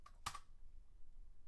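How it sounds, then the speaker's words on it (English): A single quick burst of key presses on a computer keyboard, close and crisp, then fading to faint room noise. "And let's start typing in here"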